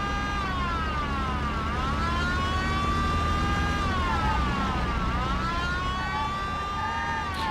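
In the Mafia video game on PS2, police car sirens wail continuously in rising and falling sweeps over a rumbling car engine as the player's car is chased. Nobody speaks.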